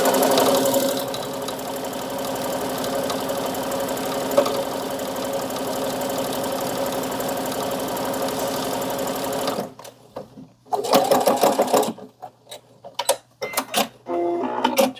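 A sewing machine stitches a fabric pouch in a steady, continuous whir for about ten seconds, then stops and restarts in several short bursts separated by near silence.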